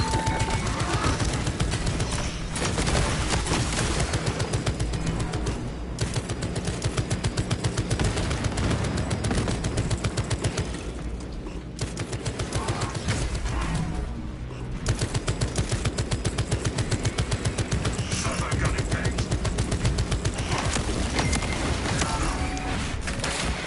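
Sustained, dense automatic gunfire from a battlefield sentry gun in Warhammer 40,000: Space Marine 2, a loud, continuous rattling barrage with chaotic combat noise that carries on almost without a break.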